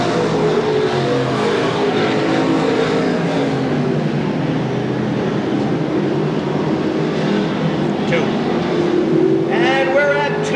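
Race cars circle Seekonk Speedway during 1993 weekly racing, a loud continuous engine roar with rising and falling whine from the pack, under a track announcer's voice.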